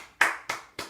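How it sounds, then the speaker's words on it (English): Three sharp hand claps, evenly spaced and close, each with a quick decay, alone with no talk. "I gotta applaud her"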